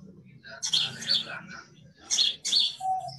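Birds chirp and call in short bright bursts on a hillside, heard outdoors under a tree, with a murmur of voices beneath the tweets.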